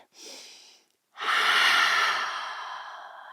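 Yoga breathing during an advanced vinyasa session: a short breathy inhale, a brief pause, then a long loud airy exhale that slowly fades, close and alone.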